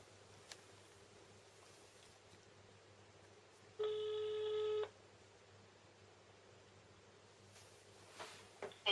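A telephone being dialed, with a single steady electronic tone lasting about a second amid quiet room hiss and a few faint clicks and rustles, no speech.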